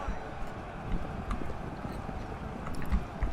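Cavalry hooves in the medieval strategy game Thrones of Britannia, a dense, distant rumble of many galloping horses with scattered clip-clops and a faint whinny, under quiet speech.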